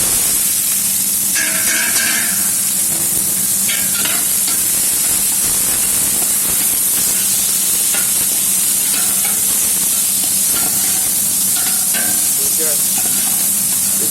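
Onions fry in oil for Peshawar street-style charsi chicken karahi, a loud, constant sizzling hiss with stirring and occasional clinks, faint talk underneath.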